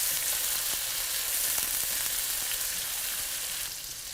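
Onions and bell pepper fry in a pan while being stirred, a constant bright sizzle with small scraping clicks up close, easing slightly near the end, no voices.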